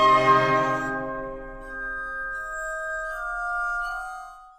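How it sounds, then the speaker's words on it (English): Mozart's K617 quintet for glass harmonica, flute, oboe, viola and cello: sustained, shimmering glass harmonica and wind tones ring out and fade smoothly, a calm held chord with no talking. "This is a quintet for glass harmonica with flute, oboe, viola and cello"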